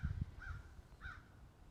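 A crow caws twice outdoors, two short harsh calls spaced about half a second apart, fairly faint and moderately distant over soft background noise.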